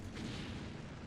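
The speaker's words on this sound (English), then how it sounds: "Whoa, a lens flare explosion." A lens flare explosion in a Sega Dreamcast Japanese launch game booms as a loud, continuous rumbling blast, filling the whole moment with dense low roar.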